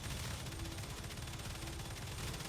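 Automated defence guns fire in the sci-fi game StarRupture, a dense, steady barrage of rapid shots with no pauses, heard at moderate level throughout.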